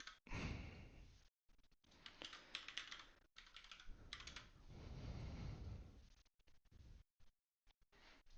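Close, quiet typing on a computer keyboard in rapid bursts of clicks, broken by short pauses, with no voices.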